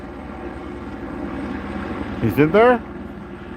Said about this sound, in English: This is the second helicopter, guys